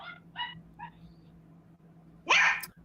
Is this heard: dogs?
yes